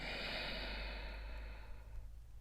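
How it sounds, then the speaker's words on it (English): A long, deep inhale from a person exercising outdoors in a cloud forest, a steady breathy rush lasting over a second before tapering off, close and moderately loud over a low background hum. "One more, inhale."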